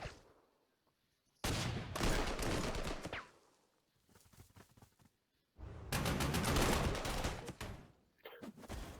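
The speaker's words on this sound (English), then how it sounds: "they're like shooting at my anti-tank" Bursts of rapid gunfire aimed at an anti-tank unit in the wartime strategy game Panzer Corps 2 come in two long, loud volleys separated by quieter scattered shots.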